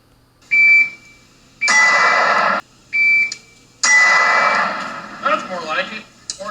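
An electronic shot timer gives sharp, loud beeps during a carbine presentation drill on a range. Several tones come in quick succession with short gaps between them, and someone talks near the end.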